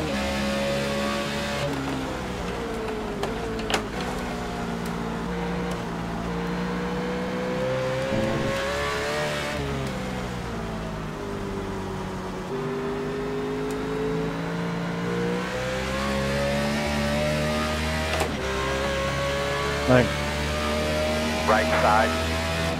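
A NASCAR stock car at Watkins Glen in iRacing, the engine droning and rising and falling as the throttle is worked through the carousel corner, with a voice talking over it throughout.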